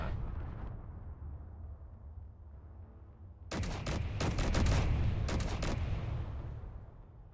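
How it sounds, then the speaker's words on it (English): Gunfire in the video game RVs at War, rapid volleys of loud cracking shots firing in dense bursts after a quieter rumbling stretch, heavy and close. "Now that it's moving, everybody is shooting it."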